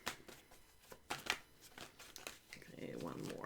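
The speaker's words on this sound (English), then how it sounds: "Come on, card shuffle." Tarot cards being shuffled in quick, papery riffles and slides, close and moderately loud, ending in a steadier rustle, with no talking over it.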